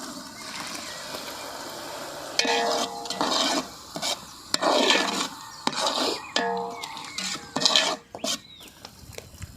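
Ground onion, tomato and green chili paste tipped into a hot pan for egg pepper dry, bursts of loud sizzling and frying alternating with a utensil scraping and clinking against the pan.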